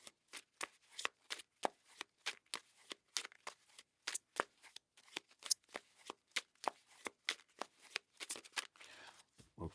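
A tarot card deck being shuffled in repeated quick riffles, crisp snapping bursts in a fairly steady rhythm, close and fairly quiet, with no talking.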